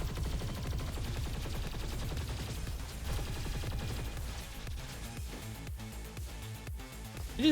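Gunfire from bullets in the video game Roboquest: a fast, steady stream of rhythmic shots at moderate level, thinning toward the end with a few sharper cracks.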